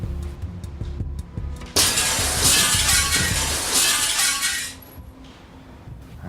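A glass window shatters from a thrown object: a sudden loud burst of breaking glass that holds for about three seconds as shards rain down, then cuts off into quiet surroundings.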